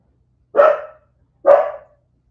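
A dog barks twice, loud and close, with a pause of about a second between the two sharp woofs and silence around them.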